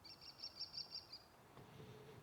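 A bird calls repeatedly from above in an open-air amphitheater, a run of bright chirps for just over a second, fairly clear against quiet ambient noise.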